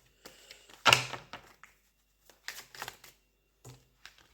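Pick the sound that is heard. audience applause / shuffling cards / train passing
shuffling cards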